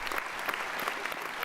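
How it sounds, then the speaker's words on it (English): Graduation ceremony audience at a business school cheering and applauding together, a dense, sustained wash of clapping with scattered whoops throughout. "I want a cheer for all the graduates in the room."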